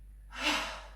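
A single slow exhale during a Pilates breathing exercise, soft and close, swelling and then fading over about a second against a faint low hum.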